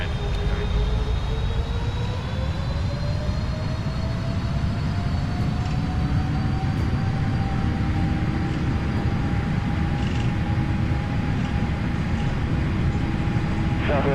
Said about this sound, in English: Alright, set takeoff thrust.